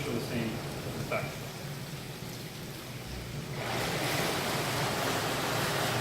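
Swim spa water jets driven by pump number 4 surge on, shifting from a quieter wash to a loud, broad rushing of churning water that continues steadily.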